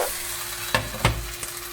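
Tofu and egg sizzle loudly in a flat pan, with a steady frying hiss broken by two or three quick scraping thumps as the food is flipped.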